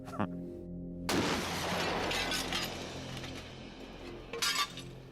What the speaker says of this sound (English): So the bullet hit the glass, and darned if it didn't break it